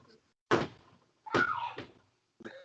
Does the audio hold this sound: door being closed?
yes